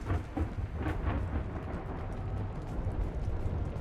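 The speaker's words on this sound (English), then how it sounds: "it's bad when it's storming in the game and in real life, and I can't tell where the thunder is coming from" Thunder rumbles through a storm in the Mass Effect 2 game, a deep rolling boom with rain-like hiss, steady and fairly loud without pause.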